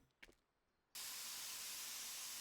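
Steady, loud spray hiss from a paint sprayer in a video game bursts in abruptly and runs continuously, preceded by a brief faint click.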